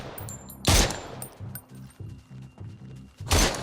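Gunfire in the VR shooter Surv1v3, two sharp loud shots bracketing a run of muffled rhythmic thumps, close and punchy with no speech.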